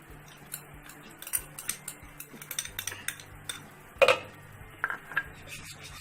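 Curd is blended with dhania powder and spices in a bowl, giving faint scraping, clinking spoon strokes against the bowl in an irregular rhythm, quiet with a couple of sharper knocks.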